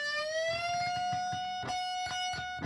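A single electric guitar note with thick strings, bent up two full frets so the pitch rises and then holds, ringing clearly with some distortion while faint picking noises tick beneath it.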